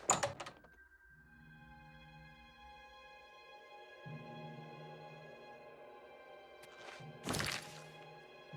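Door in Oblivion Remastered opening, a soft thunk at the start followed by sustained tonal in-game ambient music, then a louder whooshing thud near the end, all faint and without talk.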